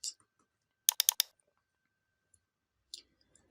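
Computer mouse clicks on a Windows 10 PC, a quick burst of four sharp close clicks in a quiet room, with a couple of faint isolated clicks around them.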